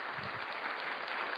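Steady clapping from many hands, a dense continuous patter at moderate level with no talk over it.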